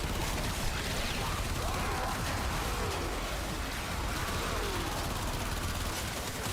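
Dense, continuous weapon fire in the Warframe video game, a rapid clattering stream of shots with mechanical rattles that stays steady and fairly quiet throughout.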